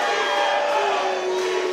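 A wrestling crowd roars in a steady, dense wall of cheering and shouting throughout a live independent show in Miami.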